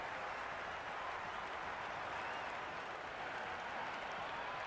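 A cricket crowd in the Cricket 26 video game keeps up a steady wash of cheering and applause, faint and distant, with the noise hanging at an even level throughout.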